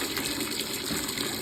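Water gushes steadily and continuously while a dog named Coco is bathed, a close, dense splashing pour with no break.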